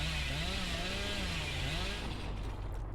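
A chainsaw revving continuously in the horror video game Dead by Daylight, a loud steady droning whine with shifting pitch that runs the whole time, tapering slightly near the end.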